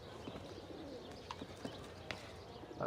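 An eagle in Assassin's Creed: Revelations gives faint, brief bird calls, a few short cries scattered over quiet ambient game noise from a rooftop setting.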